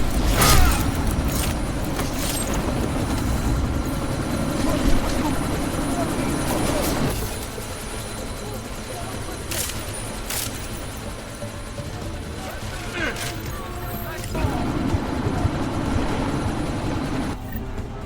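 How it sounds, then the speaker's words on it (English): A helicopter lifts off in Deus Ex: Mankind Divided. Its rotor and engine make a steady, loud whirring drone that lasts throughout, with voices heard over it. "That chopper's about to take off!"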